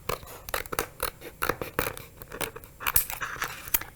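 Scissors cut through material to trim around a design, giving a quiet, close run of crisp snips and rustling scrapes in an irregular rhythm.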